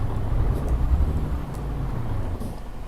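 A car pulls across a road in Birmingham traffic, a steady low engine rumble heard from inside the vehicle, fairly loud and continuous with faint road noise.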